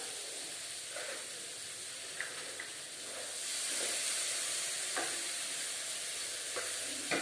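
Potato curry sizzles and hisses in a pan while a gram flour mixture is stirred in, with a steady frying hiss broken by intermittent scraping strokes of the spoon, close and fairly loud.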